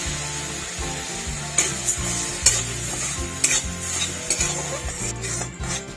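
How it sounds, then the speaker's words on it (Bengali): Sugar caramelizing in a pan with a little water, for Bengali mishti doi, sizzles steadily while a utensil stirs and scrapes against the pan in repeated close strokes, with no voices. "চিনিটা লাল করে নেব। একটুখানি জল দিচ্ছি সামান্য।"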